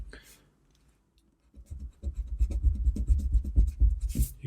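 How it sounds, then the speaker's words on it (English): An eraser scrubs pencil lines off paper during comic-art pencilling and shading, quiet at first, then a steady run of close, rhythmic rubbing strokes. "can erase some of these lines here"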